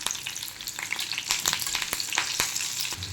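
Curry leaves and slit green chillies sizzle and crackle steadily in hot oil, a dense, close frying hiss with sharp pops scattered throughout, made while cooking hotel-style crispy chicken pakodi.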